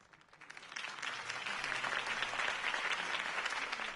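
A crowd in a video game breaks into applause, swelling quickly from quiet to sustained, dense clapping that carries on steadily, slightly distant.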